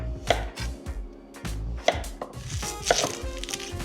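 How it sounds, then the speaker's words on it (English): Knife chopping vegetables into large chunks for Japanese curry, a few sharp close thuds on a cutting board at irregular intervals, with no talking. "While I'm cutting the vegetables,"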